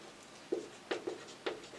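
Pen or chalk writing during a maths lesson, four short faint scratchy strokes spaced unevenly in a quiet room.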